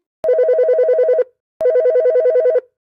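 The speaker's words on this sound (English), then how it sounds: "Her phone is ringing" A telephone rings in a quiet bedroom: two loud, close bursts of warbling electronic trilling, each about a second long, separated by a brief silence, with nothing else heard.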